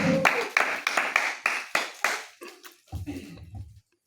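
Congregation applauding during a prayer service, a series of sharp bursts of clapping that fade and thin out toward the end, with a few scattered claps and some murmuring at the close.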